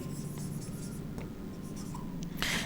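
Pen or marker writing numbers during a Class 10 polynomial maths lesson, a steady scratchy scribble running throughout with short strokes and pauses, close and fairly quiet, with no talk.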